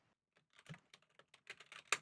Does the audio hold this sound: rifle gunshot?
no